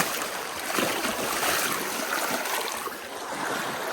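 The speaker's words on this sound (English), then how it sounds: "This little stream here flows into Twin Lakes, and you have to cross it." A small mountain stream flowing into Twin Lakes, at a trail crossing near Hope Pass, gives a steady, close, full rushing and burbling of water throughout, with no talking.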